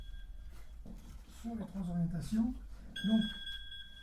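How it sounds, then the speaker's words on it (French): An alarm clock rings during a municipal council meeting, a steady electronic tone in two stretches under a man's speech in a quiet room. "c'est le réveil."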